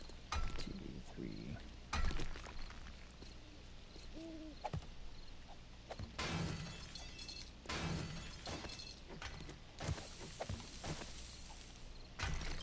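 Glass shattering in the survival game 7 Days to Die, heard as several bright crashing bursts spread across the scene amid game noise and a voice talking.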